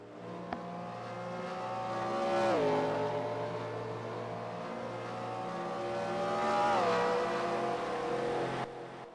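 Race cars in NASCAR Racing 2003 roar past at speed, engine tones swelling and dropping in pitch as each passes, a steady motor drone between them.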